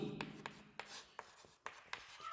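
Handwriting on paper during a math lesson on cone volume: a faint, close series of short scratchy pen strokes in an uneven rhythm with small gaps between them, and no talking.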